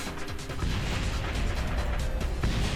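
Rocket parts blow apart in Kerbal Space Program, a dense rumbling barrage of crashes and bursts piling into one continuous noisy roar, loud and close.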